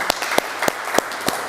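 Congregation at a church service clapping in a steady rhythm, about five sharp claps with faint crowd cheering beneath, fairly close and moderately loud.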